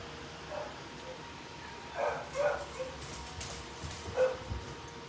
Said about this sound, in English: I don't know what my dog is doing, but she's making the dogs outside cry